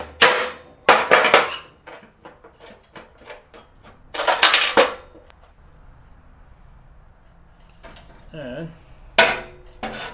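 A pulley shaft on a mower is hammered out of its worn bearings with sharp metallic strikes, first in a quick cluster, then a second burst and a last blow, with quiet clinks between and a brief spoken word.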